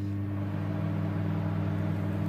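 A household microwave oven runs on a defrost setting, giving off a steady, even mains hum with a low drone that holds unchanged throughout, close by and alone with no talk.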